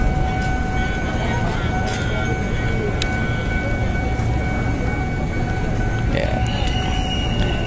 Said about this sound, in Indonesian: KA Pangrangonya datang dari sana